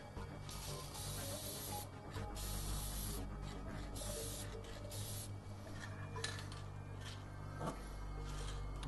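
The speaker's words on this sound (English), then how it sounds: "we've just come up from the garage where we used our spray-on primer" Spray-on primer hisses from an aerosol can onto a miniature figure in a garage, in repeated short bursts with brief pauses between strokes, close and steady over a low background hum.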